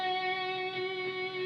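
A single sustained electric guitar note at the 12th fret of the G string, held with steady vibrato and ringing alone, clear and close for about a second and a half.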